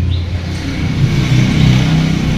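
Yamaha RS motorcycle engine running loud and close, a steady mid-pitched drone that swells slightly as the revs climb, continuous throughout with no voices over it.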